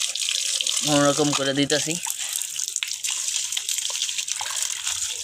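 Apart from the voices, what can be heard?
water running from a tap while washing a container by hand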